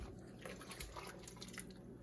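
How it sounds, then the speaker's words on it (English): Liquid poured over rolled beef for German rouladen, a soft, steady splashing and dripping heard close by, faint and alone for about two seconds. "So you're just pouring that over the meat."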